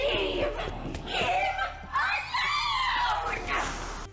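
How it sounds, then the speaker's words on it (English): Samantha, a character in Call of Duty Black Ops Classified, screams in repeated rising bursts, mixed with laughing sounds over a steady low game hum, fairly loud and close. "the more you knock, the more he gets frustrated until Samantha screams at you to leave him alone"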